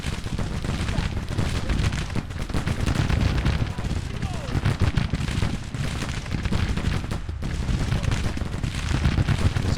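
Sustained gunfire in Grand Tactician: The Civil War as a Federal summer 1861 engagement rages, a thick, unbroken rattle of rifle shots layered with deeper booms, loud and constant for the whole stretch.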